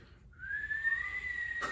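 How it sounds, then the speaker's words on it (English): One person whistles a single long note that rises slightly and holds steady, clear and fairly close, with no talking over it. "That was a good whistle."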